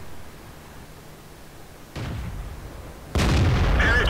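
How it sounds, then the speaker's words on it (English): Tank gun fire in the video game World of Tanks, two heavy booming shots about a second apart, the second louder and closer with a sustained rumbling tail, over low background game noise. "Horribly aimed shot, he misses, goes straight into the ground."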